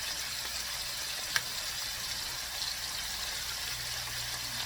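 Shrimp frying in a pan for pad thai, giving a steady, even hiss of sizzling oil throughout with one brief sharp tick partway in and no voices.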